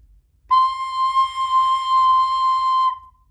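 A recorder sounds a single sustained high C note for about two and a half seconds, clear and steady, close up and alone against near silence.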